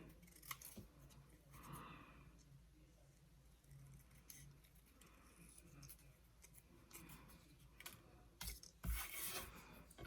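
Close, quiet snips and rustling of scissors cutting crepe paper for sweet pea flowers, irregular short cuts with paper crinkling between them and a louder crisp snip near the end.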